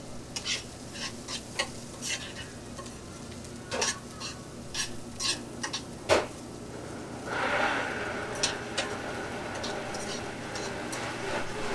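A cocktail being mixed by hand on a shakers show, with irregular close clinks and scrapes of stirring, a brief sharper knock midway and a soft hiss-like swell in the later part.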